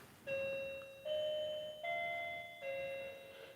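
A grandmother's old clock chimes in a quiet room, four sustained bell-like ding-dong tones in a steady descending-and-rising pattern, moderately close with a ringing decay between strikes.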